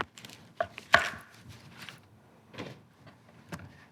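A knife trims the ends off leeks on a cutting board, a few crisp chops with one louder thunk and scattered lighter knocks, close and alone with no talking.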